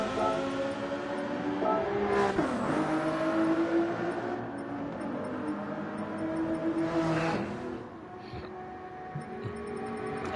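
Race car engines roar and shift through gears during a Gran Turismo 7 video game race, loud and continuous with sweeping rises and drops in pitch as cars accelerate.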